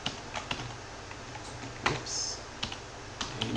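Keys clatter on a computer keyboard in bursts of sharp taps at an irregular rhythm, close and fairly quiet, with no talk.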